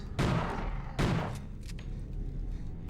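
Two loud, sharp gunshots from a firearm in the horror game ObsCure fire about a second apart, each leaving a short ringing tail, then fainter thuds trail off.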